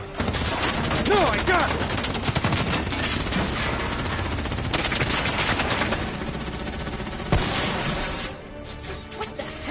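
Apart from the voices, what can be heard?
gunfire from a Call of Duty 3 video game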